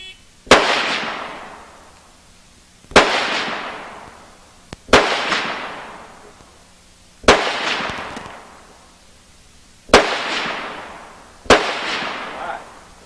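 Six loud gunshots ring out one at a time at a shooting competition, a couple of seconds apart, each a sharp crack followed by a long echoing decay across an open range.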